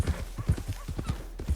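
Horse hooves clip-clop in a steady rhythm alongside a brief whinny in Red Dead Redemption 2 at a stable, close and moderately loud, with the rider's calming voice murmuring over it.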